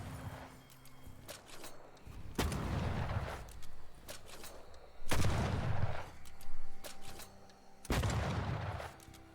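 Gunfire in the ghost-hunting game Banishers: Ghosts of New Eden, four heavy booming shots spaced roughly every two to three seconds, each followed by a decaying rumble, with faint background sounds between.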